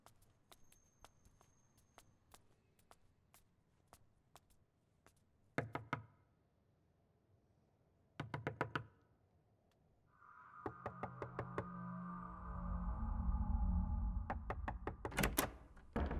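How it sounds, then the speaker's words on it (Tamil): Knocking on a door, sharp close raps in short clusters of two to four, separated by quiet pauses, followed by a louder rumbling, dragging noise. "யாரோ கதை தட்டுறாங்க."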